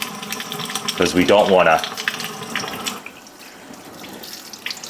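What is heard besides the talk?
tap water rinsing cured salmon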